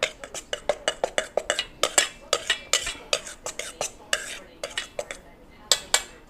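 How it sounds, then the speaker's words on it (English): A utensil clinks and scrapes rapidly against a bowl while flour is mixed with seasonings including cayenne pepper, making dense irregular taps close by with no talking. "And then I'll just mix this all up here within the flour."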